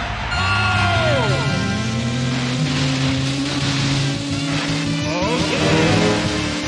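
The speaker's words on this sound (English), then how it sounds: "Start your engine." Racing cars in a Nintendo 64 racing game rev and roar away from the start at Sunset Bay. Several engines whine loudly and steadily, and their pitches climb and shift as they accelerate together.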